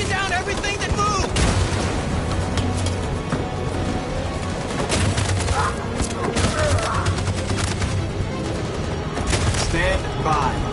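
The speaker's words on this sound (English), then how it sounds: "That machine gun is taking down everything that moves!" Sustained machine gun fire in a PS4 war video game, dense bursts of shots layered with booming explosions and battle noise, loud and continuous, with voices shouting over the fighting.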